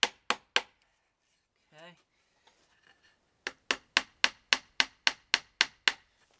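Long nails driven into wood with a hammer while building a simple wooden organizer: three sharp blows, a brief spoken word, then a steady run of about ten evenly spaced, close, ringing strikes.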